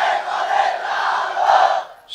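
A large crowd at a religious waz gathering roars a loud unified shout in answer to a takbir call, one sustained burst of massed voices for about two seconds, then dropping off abruptly.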